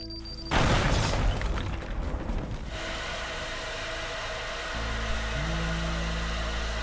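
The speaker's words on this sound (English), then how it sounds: "I still hear fire burning" A fire in the game Teardown, set in a pawn shop level: a sudden loud burst, then a steady roaring rush of flames with a low hum, continuing at close range.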